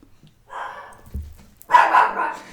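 A dog barks at schoolchildren walking past. There is a short bark, then a faint thump, then a louder, fuller bark, recorded nearby with no talking.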